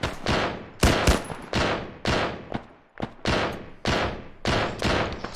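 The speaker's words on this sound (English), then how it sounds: "People are taking fire from the bushes to the north side of the stadium." Rapid bursts of gunfire from bushes in the ArmA video game, several loud volleys cracking out in quick succession with short gaps between them, no voices over them.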